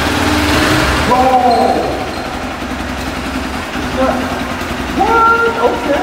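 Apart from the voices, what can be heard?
KTM motorcycle engine revving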